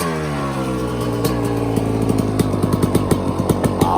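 A 2002 Kawasaki KX 250 two-stroke dirt bike fires up on the first kick and idles close by, a buzzy, ringing engine note with crisp popping exhaust pulses picking up slightly in pace.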